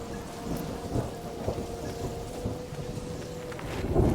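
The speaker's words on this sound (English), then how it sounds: "there was a lightning strike." Thunder from a lightning strike in the video game Mind over Magic, a low continuous rumble under steady rain and scattered crackles, swelling louder toward the end with no voices.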